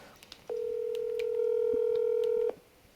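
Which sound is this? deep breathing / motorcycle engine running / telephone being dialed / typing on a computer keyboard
telephone being dialed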